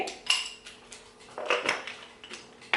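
A metal spoon scrapes and clinks against a cooking pot while sea salt is stirred into food, giving a series of short, close, bright clicks and knocks in an irregular rhythm with no talking.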